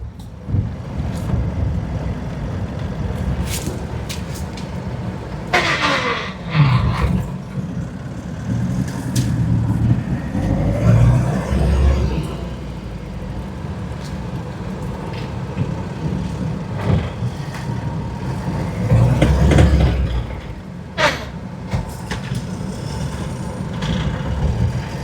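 A 2011 Mahindra Xylo drives along the road with its engine running in a steady, close drone, swelling in brief surges as it accelerates. Road and wind noise mix in, and no one speaks.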